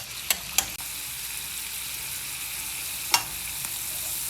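Onions, garlic and tomatoes fry in a pan with a steady, close hiss, broken by a few sharp clicks and scrapes of stirring.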